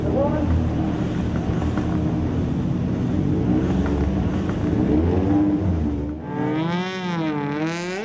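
Ice racing cars at the start of a 2019 G Series ice race, engines roaring loudly and revving together, with a commentator talking over the rising engine din.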